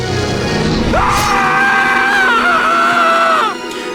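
A game character in Broken Sword: The Sleeping Dragon lets out a loud, sustained scream of about two and a half seconds, rising sharply and then holding before cutting off, over dense game background sound.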